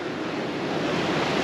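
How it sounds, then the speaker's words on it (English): Waves smash against a rocky coast, a loud continuous roar of surf with wind buffeting, no voices. "You can see how the waves are absolutely smashing against it"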